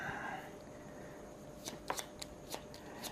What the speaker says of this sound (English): So I'll shuffle these up